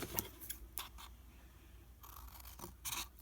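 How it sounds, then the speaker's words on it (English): Scissors cut along a score line in paper or cardstock for a ribbon fan craft, with several close, crisp snipping and crunching bursts in uneven rhythm and brief pauses between them, no talking. "we are going to cut on that score line just to the next line"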